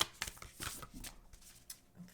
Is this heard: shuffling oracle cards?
yes